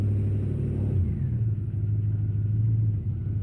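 A truck engine hums low and steady while pulling a 22-foot trailer at a building site, a continuous close rumble with a slight rise in revs partway through and no talking.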